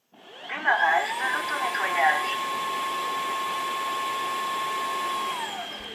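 A Dreame H12 wet-dry vacuum runs its self-cleaning cycle, starting up with a few watery whooshes before settling into a loud, steady motor whine with a high tonal hum that holds evenly and then cuts off.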